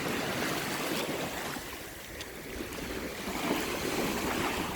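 Seaweed being washed in sea water at a low-tide shore, a steady broadband wash of splashing and lapping water with gusts of wind throughout, fairly close and continuous without pauses.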